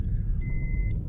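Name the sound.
Maruti Suzuki Baleno 1200cc petrol engine running after start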